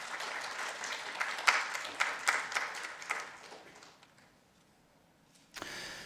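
An audience at a neuroscience lecture applauds to welcome the speaker, with steady clapping of moderate loudness that thins out and fades over about four seconds, then a brief burst of room noise.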